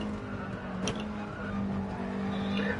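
Race car in the video game GT Sport at Spa: a close engine drone that holds a steady pitch, then builds as the throttle opens, with a brief sharp transient near the start and faint tire noise.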